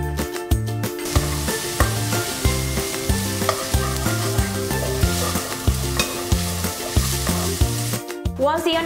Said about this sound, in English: We're going to start by frying the onions in a bit of vegetable oil